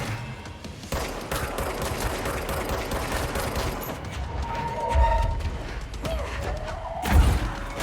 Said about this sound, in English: shooting missiles is cheating